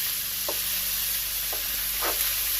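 Steak sizzling in a frying pan gives a steady, close hiss throughout, with a few brief soft pops or scrapes rising above it.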